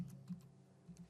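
Quick, light keystrokes on a computer keyboard while entering a date and time, a few soft taps in an uneven rhythm, faint and close with no talking.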